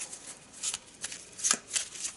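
Eldritch Horror asset cards being shuffled by hand, a quick series of crisp riffling bursts close by with no speech.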